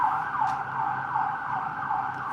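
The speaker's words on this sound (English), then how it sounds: "The ambulance is walking away." An ambulance siren wails nearby in steady, repeating rising-and-falling sweeps over road traffic noise, loud and close throughout, with no talking.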